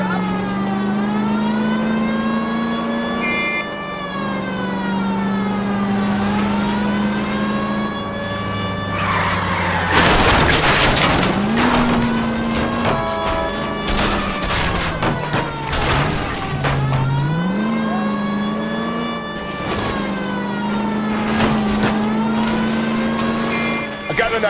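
A car driven in the crime video game L.A. Noire: a steady engine hum rises and falls in pitch through repeated revs and gear shifts, with a burst of loud thuds and crashing impacts midway, all close and continuous.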